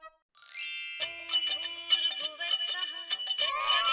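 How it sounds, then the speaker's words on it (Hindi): A melodic electronic ringtone chimes in a bright repeating tune, clear and close, after a short click at the start. "अरे देवा, ये आनंद दादा का फोन है"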